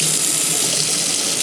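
Tap water gushes in a steady, close, unbroken stream, filling a container of salted water used for soaking brass cartridge cases.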